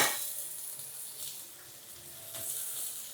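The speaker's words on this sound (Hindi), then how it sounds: "थोड़ा सा प्याज टमाटर हरी मिर्च को मैं पहले हल्के से घी में सौते कर लेती हूँ" Onion, tomato and green chili sauté in ghee in a pan, giving a steady, close, continuous sizzle that swells and eases slightly throughout, with no voices.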